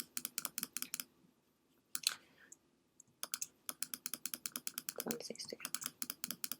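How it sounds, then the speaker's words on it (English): Rapid mouse clicks, each marking a brush stroke while painting an abstract watercolor pattern in Photoshop, come in quick close bursts with short pauses and a brief spoken phrase partway through. "each of these is a click of the mouse and it's a brush stroke"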